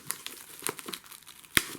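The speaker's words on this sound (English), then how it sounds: "I'll just unwrap this." Plastic packaging wrapped around a new Xbox One S is peeled off up close: a steady run of crinkling and crackling with a sharp tearing snap near the end, no talk.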